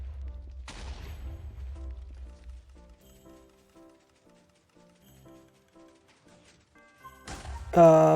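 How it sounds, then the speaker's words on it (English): TNT exploding in Minecraft, with a loud burst early, a crackling fusillade near the end, and quiet clicks and taps between them. "Could put a little bit more time in between explosions."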